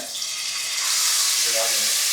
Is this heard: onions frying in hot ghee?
yes